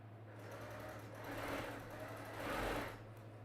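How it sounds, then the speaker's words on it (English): A sewing machine runs steadily while stitching Dresden quilt pieces, a faint continuous hum with the whir rising and falling twice. "this is where I'm going to sew"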